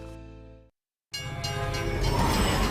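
Train sound effect: a sustained horn blast cuts off, and after a short silence a rumbling, rolling train passes close and loud, its noise building steadily.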